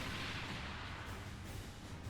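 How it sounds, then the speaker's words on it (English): Deep, sustained rumbling boom from an explosion in the video game Super Robot Wars Y, loud and dense with low-end roar across the whole stretch, no talk over it. "What was that explosion?"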